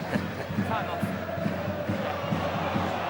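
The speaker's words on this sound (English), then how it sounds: "there's murmurs around the crowds about that when it's shown on the big screen" Stadium crowd at a Warrington versus Wigan rugby league cup match murmurs steadily as a replay plays on the big screen, a dense continuous rumble of many voices with faint scattered calls.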